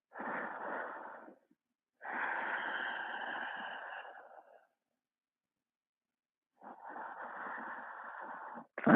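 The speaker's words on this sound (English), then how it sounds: "Find your Ujjayi." Three long, steady breaths of ocean-like Ujjayi breathing during a throat chakra yoga flow, each a soft hissing rush through a constricted throat, close and alone with silent pauses between.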